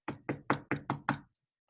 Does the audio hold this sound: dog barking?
no